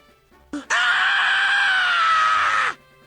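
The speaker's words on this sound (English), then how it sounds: "I hear Kazuichi screaming like a banshee" A single long, loud, high-pitched scream rises sharply and holds steady for about two seconds before cutting off, standing alone against a quiet background.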